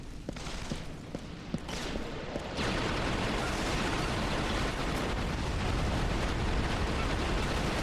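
Resistance: Fall of Man gunfire. A few scattered shots give way to a dense, continuous roar of rapid weapon fire and blasts that stays loud throughout.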